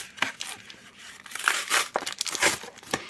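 Pokemon Temporal Forces booster pack wrapper torn open and crinkled by hand, close up, with a quick series of sharp crackling rips and rustles over a few seconds, no talking.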